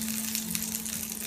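Turkey roll pieces browning in a hot pan give off a steady, close, even sizzle with a faint constant hum underneath, and no voices.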